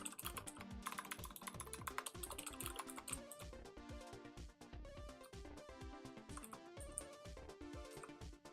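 Continuous rapid typing on a computer keyboard, close and clear, with dense clattering keystrokes and only a few short gaps.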